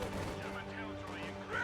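Infantry gunfire in a Reign 5 strategy game match, a dense burst of overlapping rifle and machine-gun shots, fairly faint and continuous, under an excited commentator's voice.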